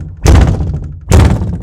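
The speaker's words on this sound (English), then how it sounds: "every door in the house slammed shut simultaneously" Two heavy wooden door slams thud through a house in close succession, each a loud, booming impact with a short reverberant tail and no voices.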